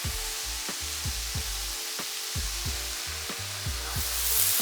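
Beef pieces for stroganoff sear in a pan over high heat, a continuous loud sizzle and hiss with a repeating low rhythmic thumping underneath, and no voices.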